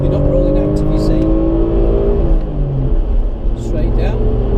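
An Alfa Romeo Brera on a track pulls out of a corner, its engine note rising and droning loudly under an occupant's talk, then easing briefly before building again.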